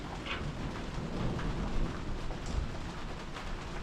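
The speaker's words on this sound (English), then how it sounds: "It's a dark and stormy night, and we're here eating pie." A thunderstorm on a dark night, with steady rain hissing on surfaces and low thunder rumbling through it, swelling a little midway; continuous and fairly close, with no talk.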